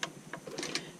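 A sewing machine quilting a row of a purple quilt: quick, light ticking stitches in a steady run, close and fairly quiet, with no one talking.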